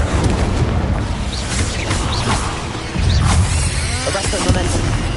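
In Hogwarts Legacy, an Incendio fire spell bursts out as a loud roaring whoosh amid dense combat booms and crashes, with a voice calling out during the chaotic battle noise.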